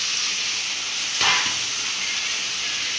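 Constant loud sizzling and hissing of onions and garlic frying in oil in a pan, with a brief sharp burst of spitting as tomatoes are dropped in, then steady frying continues.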